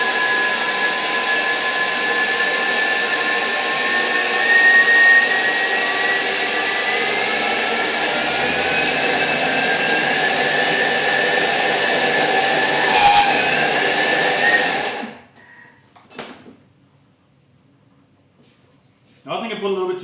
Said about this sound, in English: The Thermomix is really good for this.